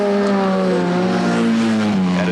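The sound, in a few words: rally car racing on special stage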